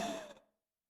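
A forceful exhalation from Kaka Shuddhi Kriya yoga breathing sounds as one close, breathy rush of air that fades out within half a second, leaving silence.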